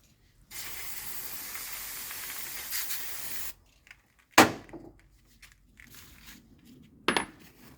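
An aerosol cleaner sprays onto a motorcycle fork part in a workshop vise: a steady hissing burst of about three seconds, followed by a few sharp metallic clinks and light handling noises.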